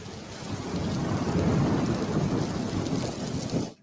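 Heavy rain with deep rolling thunder, a loud continuous storm that swells in the middle and cuts off abruptly at the end, no voices.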